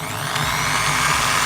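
An iBell TD13-85 650W 13mm drill machine running at normal speed, giving a steady high-pitched motor whine that holds level and close throughout the short stretch, with no talking.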